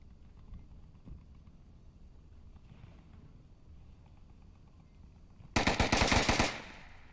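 A sudden burst of rapid automatic gunfire erupts in the VR shooter game Onward during a competitive match, loud, close cracks arriving after several seconds of quiet background with a few faint earlier pops.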